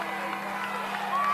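Crowd at a high school football game between Pulaski County and Whitley County cheering and shouting in a steady distant roar, with a commentator's voice over it.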